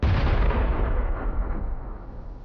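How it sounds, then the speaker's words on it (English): Heavy artillery fire falls on Russian armored personnel carriers near Avdiivka. One loud, close blast is followed by a long decaying rumble, with no voices over it. "Russian armored personnel carriers are under constant heavy fire."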